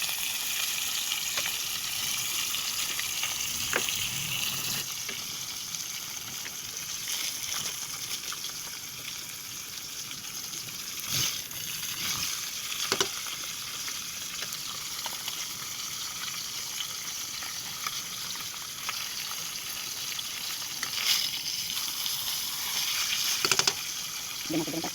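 Tilapia fries in a pan with a constant crackling sizzle throughout, punctuated by occasional louder pops and spatters, heard close with no clear talking.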